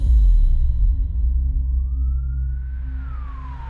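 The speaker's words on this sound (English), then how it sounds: "Seconds later, the ambulance finally arrived and Kay was rushed to the hospital." A low engine rumble dominates while a single siren tone rises slowly and then begins to fall, fairly distant behind the vehicle noise.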